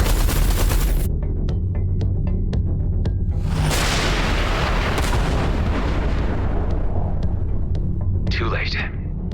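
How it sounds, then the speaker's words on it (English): Heavy artillery barrage in the Everspace 2 space combat game: dense, continuous booming and crackling blasts, loud and close, with a long rumbling roar through the middle and a burst of radio-style dialogue near the end. "Watch out, the artillery."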